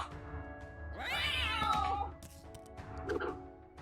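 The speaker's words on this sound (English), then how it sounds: "Throw cats at the ghoul." Cats meowing and caterwauling in a fantasy dungeon battle game as they are hurled at a ghoul, a loud rising yowl swelling over game music for about a second, then a shorter squeal near the end.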